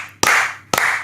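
Two sharp, close hand claps land about half a second apart, each crisp snap trailing off in a short room echo, with nothing else heard around them.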